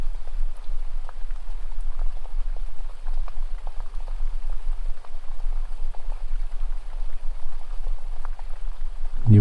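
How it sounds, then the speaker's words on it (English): River water flows gently along the bank, a soft, continuous trickle with faint scattered droplets, steady and unbroken and fairly quiet, ending in a brief louder knock. "You begin to hear the sound of the water, the gentle flowing sound along the edge of that river"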